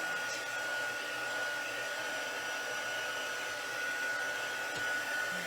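A heat gun blows hot air steadily over wet paint, a continuous loud whooshing hiss that holds at an even level throughout with no talking.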